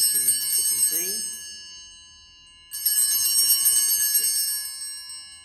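Handheld altar bells of the kind rung during Mass jangle in two bright, sustained bursts separated by a pause of about two seconds while a voice speaks briefly.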